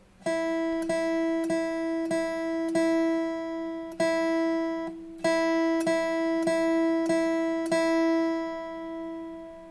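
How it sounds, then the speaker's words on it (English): Single guitar notes on the open E string ring out in an even, repeated pulse of about a dozen plucks with a short pause in between, close and clear with no talking. "If I play it without me counting out loud, it would sound like this."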